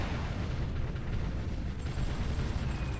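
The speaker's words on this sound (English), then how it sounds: "We are bombarding a lot of the enemy troops in here." Artillery bombarding enemy troops in the strategy video game Supreme Ruler Ultimate, near Paris, heard as a continuous, loud rumble of overlapping booms and blasts with heavy low-end thunder.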